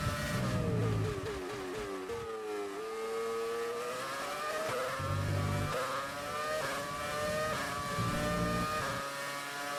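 Race car engine in a racing video game, revving hard with rising pitch sweeps and abrupt drops at gear shifts, a steady loud drone with no voices.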